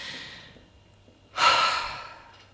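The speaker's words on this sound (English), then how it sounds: "and I take a deep breath" A single deep breath drawn in and let out, a soft airy intake followed by a louder, long sighing exhale, close and alone.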